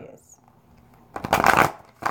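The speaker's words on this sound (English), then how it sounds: "If you can't deal with shuffling, fast forward." Tarot cards being shuffled by hand, a quiet lull followed by two crisp riffling bursts of cards fanning together, close and loud, with a voice faintly present.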